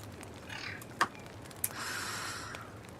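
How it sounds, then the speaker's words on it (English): Snoring-like snorts and short rasping clicks from beavers in a beaver-colony building game, a few brief bursts with a breathy hiss between them, faint and in the foreground. "That sound of beavers snoring when you click on these things is also very annoying."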